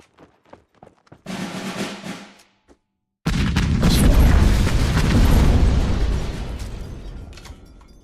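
A bomb blast in the card strategy video game Kards: a few light clicks and a short rumbling burst come first, then a big, loud explosion that booms and rolls off over several seconds. No one speaks.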